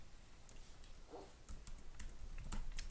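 Rapid, close typing on a computer keyboard while code is being written, a dense patter of light clicky keystrokes running steadily throughout with no voices.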